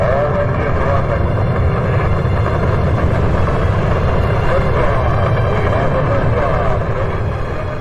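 Rocket engines running at launch, a loud continuous broadband roar that holds steady without letting up, dense and rumbling.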